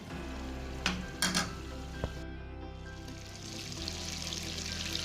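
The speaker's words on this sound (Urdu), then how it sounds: "مکھن کو اچھی طرح سے ہم پکائیں گے" Butter cooking in a pan on a stovetop while making sawiyyan: a steady soft sizzle with a few brief stirring clicks and scrapes, close and moderately quiet, no talking.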